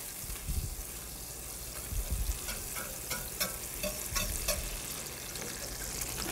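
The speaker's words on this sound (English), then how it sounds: "We're going to take 1/2 a cup of butter, put that in our pan, mix it up as it starts to melt." Half a cup of butter melts and is stirred in a pan to start a roux, giving a steady close frying sizzle with occasional soft scraping from the stirring.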